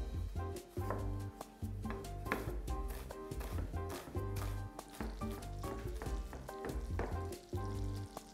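Onion fries in butter for a winter soup, giving a moderate sizzle broken by repeated sharp clicks and knocks from the pan.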